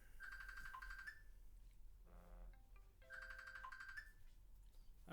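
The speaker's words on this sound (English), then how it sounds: "that's my silly cell phone" A cell phone ringing with a faint, distant melodic ringtone, two repeated tune phrases separated by a short gap, over a low background hiss.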